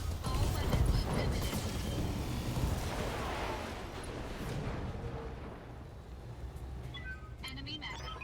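A mech blowing up in the BattleTech game: a heavy rumbling explosion bursts at the start and rolls off into a long, fading crackle, with a voice talking over it.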